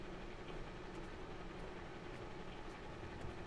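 Tram rolling along in the video game The Last Caretaker, a faint, even low rumble with a steady mechanical hum and no distinct clatter, continuous throughout.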